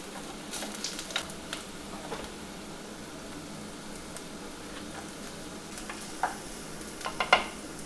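Garlic and onion fry in a pan, a soft steady sizzle with a few sharp ticks and scrapes of stirring near the end, no voices.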